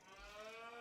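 Young cows moo in Farming Simulator, a short, faint bovine call in a farm setting, heard alone with no talking.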